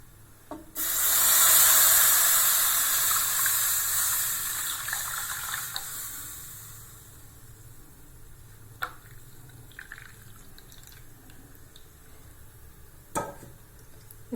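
Strained beetroot and apple juice for halwa pours into a kadai in a loud, steady splashing gush lasting several seconds, then tapers into quieter trickles and a few sharp clinks.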